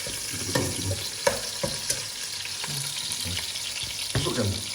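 Slices of ikan jenahak (snapper) frying in hot oil: a dense, continuous sizzle with crackles and spatter, plus occasional scraping and clinks from stirring in the pan.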